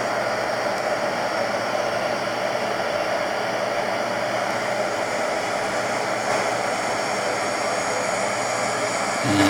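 An airliner's engines in the Infinite Flight simulator drone as a steady, loud jet roar during descent, with broadband whooshing noise throughout and a brief low shift at the very end, no voices.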